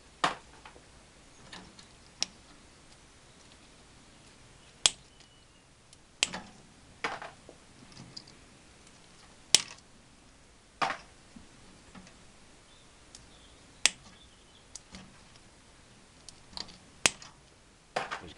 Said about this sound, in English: All I'll do is just snip these off